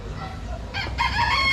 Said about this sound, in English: And a chicken.